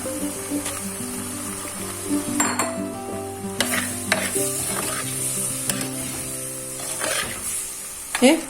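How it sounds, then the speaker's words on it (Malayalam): Prawns go into a pan of coconut pieces frying Kerala style, with steady close sizzling and repeated scraping stirs of a spoon against the pan throughout. "ഇനി നമുക്ക് ഇതിലേക്ക് ചെമ്മീൻ ഇട്ട് കൊടുക്കാം."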